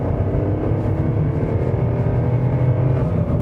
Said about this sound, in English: if I accelerate, you'll hear that it makes a noise like a diesel almost